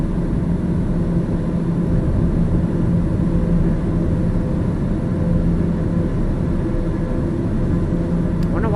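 Small single-engine airplane with inertial separator pushed in, flying over South Dakota, engine running at high throttle: a loud, steady, dense drone with a low hum, unbroken for the whole stretch and heard from inside the cabin.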